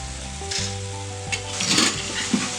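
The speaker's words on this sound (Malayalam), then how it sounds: "ഇങ്ങനെ ഇളക്കുന്ന സമയത്ത് ഒരു ഒച്ച എടുക്കുക, ക്രിസ്പി ആയതിൻ്റെ ഒച്ച." Boondi fries crisply in hot oil for a laddu, a steady loud sizzle with scraping bursts as a spoon stirs it through the pan, no voices.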